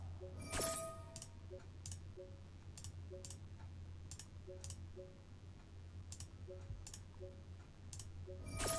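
A computer mouse clicks during a video game, faint, sharp clicks spaced irregularly over a low steady hum, sometimes doubled in quick pairs, with no talking.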